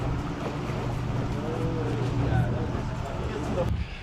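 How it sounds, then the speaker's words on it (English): Track grooming vehicle, a Zamboni-style machine, rumbling steadily past at a Florida greyhound track, a continuous engine drone with outdoor wind noise at moderate loudness. "Here comes the track Zamboni."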